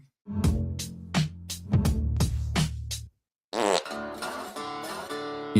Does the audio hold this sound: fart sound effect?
yes